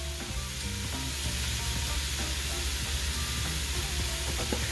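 Chopped vegetables sweating in olive oil in a pot for fish stock, a steady close sizzle with occasional stirring scrapes and clinks throughout, no voices.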